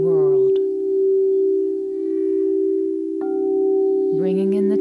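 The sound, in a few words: crystal singing bowl tones at 432 Hz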